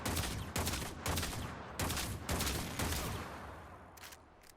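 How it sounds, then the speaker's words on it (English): Captain Vor's Pistol in Warframe fires about eight sharp, booming shots in quick succession, each shot exploding on impact, loud and close with short gaps between bursts. "the weapon has a slow reload speed and it explodes upon impact, which staggers them"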